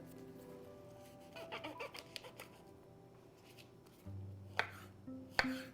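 Large portabella mushrooms are sliced with a knife into thin slices, giving faint soft cuts and a few sharper taps against the board amid quiet kitchen hum and clatter.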